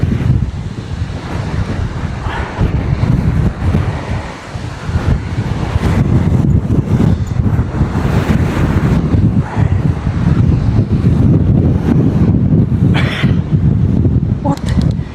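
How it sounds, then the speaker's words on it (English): Strong, gusty wind roars and buffets across the microphone while cycling along the coast between Blackpool and Liverpool, a constant loud rumbling rush that swells and eases throughout. "What is it with the wind up here?"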